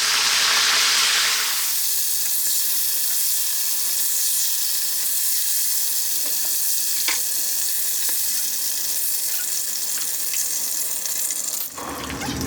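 Chicken wings sizzle steadily in hot seasoned oil in a pan, a dense continuous frying hiss with faint scraping and clinks as they are tossed, ending abruptly; no one speaks.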